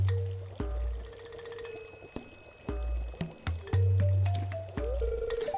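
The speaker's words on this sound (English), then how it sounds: "My cauldron is bubbling with ingredients from the forest." A cauldron of forest ingredients, including baby fern, moss scrub and caramel top toadstool, bubbles in Stardew Valley, giving wet squishing pops and drips in an uneven rhythm over soft tonal game sounds.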